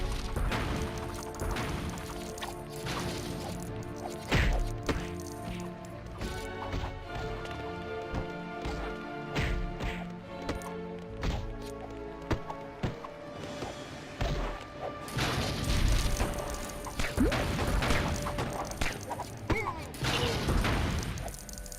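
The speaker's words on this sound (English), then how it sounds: "The batarang is most effective for taking down these trees." In the LEGO Batman video game, a batarang smashes LEGO trees, a run of sharp cracks and clattering brick breaks over game music and effects, with a dense burst of crashing toward the end.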